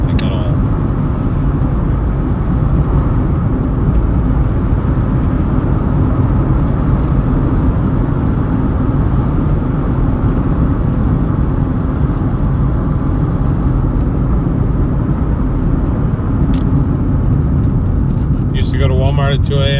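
Car driving at night on empty roads, a loud, steady close engine and road rumble throughout, with brief faint chimes near the end.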